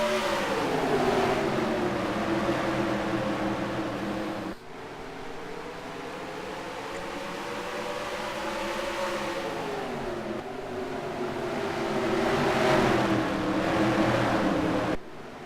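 Race cars in a racing video game run green-flag laps at North Wilkesboro in the Southern States 400, a Chick-fil-A Cup Series event. The pack drones steadily, with engine notes rising and falling as cars pass, and abrupt cuts between camera views.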